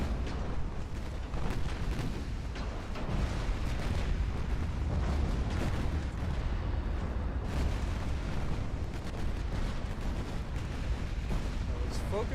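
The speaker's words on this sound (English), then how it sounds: "Got some ammo detonations going on." Ammunition detonations aboard warships in a naval battle game make a continuous loud roar of booms and rumbling explosions for the full stretch, with no gaps between them.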